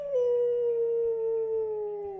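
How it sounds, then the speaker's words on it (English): A single dog howls in one long, steady, gradually falling wail, clear and close, with no other sounds around it. "I heard a dog howling,"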